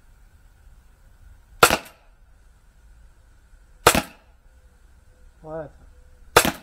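Three sharp, loud airsoft Glock 17 Gen5 pistol shots fired at rubber and steel targets, spaced about two seconds apart, with a brief voice heard between the last two.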